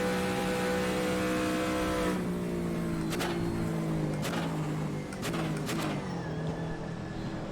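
Race car engine in rFactor 2 at the 2017 Le Mans cars, droning loudly and steadily with harmonic whine, its pitch sliding down as it lifts off, then several sharp gear-change blips before climbing again; no voices.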